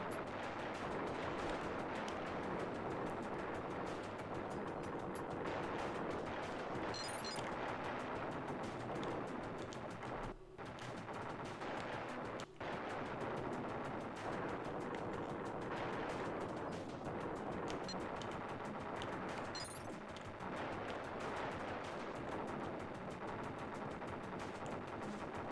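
Missiles launch in the SNES game Timeslip, with bursts of loud crackling blasts and explosions over a dense stream of chiptune music and game noise, and nobody speaking.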